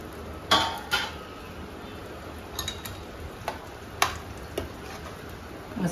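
A spoon stirs shark fish curry gravy in a metal pan, giving soft scraping and several sharp clinks of utensil on pan, quiet and intermittent with a faint steady hiss behind.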